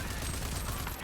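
Rapid gunfire against an armored enemy in the open-world shooter Rage 2, a dense continuous barrage of shots blending into a loud sustained roar.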